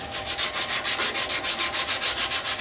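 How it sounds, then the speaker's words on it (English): Oak wood being sanded by hand, a close, loud rhythmic rasping with about fifteen even back-and-forth strokes in quick succession. "I think I'd probably be able to sand all this off of here"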